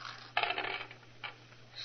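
Dice rattle and clatter in a backgammon game, a bright burst of tumbling followed by a second shorter clatter, close and fairly quiet over a low steady hum.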